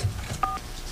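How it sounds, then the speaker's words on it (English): A single short touch-tone beep from a telephone number being dialed sounds once, faint, against a murky background of radio-studio hiss. "I'm going to try to dial this number once again"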